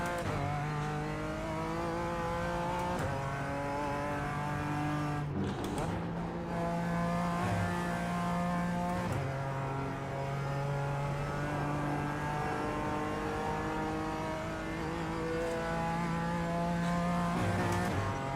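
A BMW GT4 race car engine at the Nurburgring in iRacing holds a loud, steady high-revving drone, stepping through gear changes with brief dips and climbs in pitch, close and alone.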